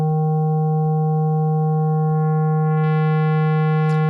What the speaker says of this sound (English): So listen to this. I bring the feedback up.